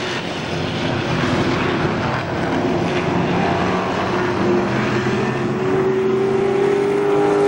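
Race cars roaring around KilKare Speedway, a loud steady engine drone with a rising pitch as the pack passes close by, no talk over it.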